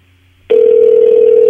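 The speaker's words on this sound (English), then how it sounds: "A lot of ringing" A telephone rings out on an unanswered call, with a loud steady tone starting abruptly after a quiet moment and holding until the end, no voices.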